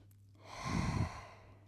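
A slow, deep breath taken while resting in child pose during a stretching routine, a soft close rush of air that rises and fades over about a second, with no talking.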